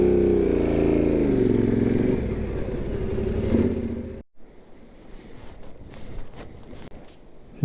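A motorcycle engine runs loud and close on a riverside adventure ride, a steady harmonic drone that cuts off abruptly midway, leaving only quieter outdoor rustle and clatter.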